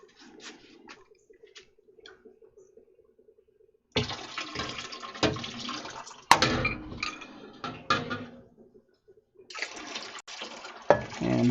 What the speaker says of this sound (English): I'm going to give the lip just a little bit of a rinse off the top there